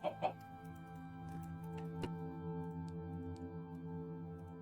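A Minecraft chicken gives a couple of quick clucks at the start, then faint scattered clucking continues over steady in-game background sound.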